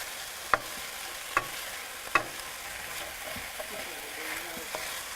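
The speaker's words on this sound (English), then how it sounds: "But when you stir fry, you want it at a high enough heat that you kind of have to keep stirring it" Chicken stir fry sizzles steadily in a hot pan with a continuous hiss, broken by a few sharp clacks of stirring, close and fairly quiet.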